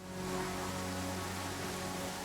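Steady rain in the video game Pathfinder: Kingmaker, a continuous soft hiss of falling drops over a low ambient hum, even and unbroken throughout with no voices.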